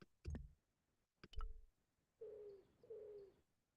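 Pigeons cooing in the point-and-click game Broken Sword: The Shadow of the Templars Reforged, two soft, drawn-out coos following a few sharp clicks and flutter-like bursts, with quiet between them.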